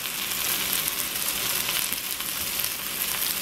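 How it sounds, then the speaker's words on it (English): A large roast sears in a hot pan with garlic, a loud, steady broadband sizzle that crackles continuously with no talking. "I guess I shouldn't have put my garlic on when I'm searing it like this"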